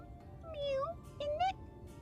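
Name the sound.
voice imitating a cat meowing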